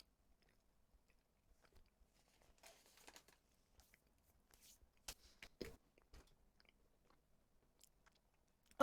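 Someone chews mochi, pounded rice cake, up close: quiet, sticky, irregular mouth sounds with soft squelches and smacks, alone and faint, with a louder burst of chewing in the middle.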